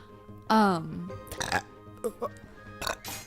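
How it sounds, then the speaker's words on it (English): A person burps loudly several times in a row, the first long and croaky, followed by shorter throaty belches and small vocal noises, close to the microphone. "I'm just running through a bunch of fucking burps"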